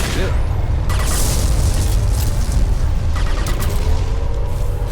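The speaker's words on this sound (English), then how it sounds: "Thresher Maw!" A huge Thresher Maw worm creature bursting up from the ground in the game Mass Effect 2: a loud, continuous deep rumbling roar with heavy booming surges and crumbling noise throughout.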